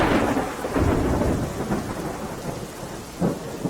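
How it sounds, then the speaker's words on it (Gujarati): Heavy rain pours over Dhansura in Aravalli, Gujarat, a dense roaring wash with low rumbling swells of thunder, loud and steady with no voices. "સવારથી વરસાદ પડી રહ્યો છે"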